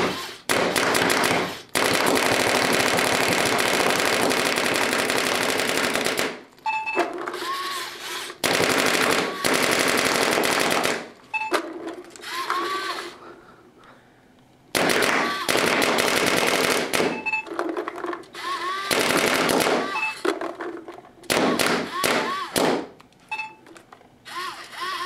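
A Valken Vmax paintball marker fires Reballs on semi-automatic in loud, close bursts of rapid cracking shots separated by short pauses, with some faint speech between the strings of shots.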